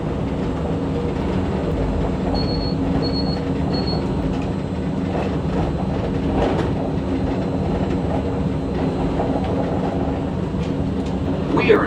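The Disneyland monorail glides along its elevated track, producing a steady, continuous rumble with light rhythmic clatter and a few short high electronic beeps, heard from inside the car.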